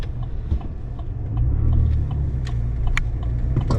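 A car approaching at a road intersection, its low engine rumble swelling nearer and louder midway before easing slightly, heard close by without talk.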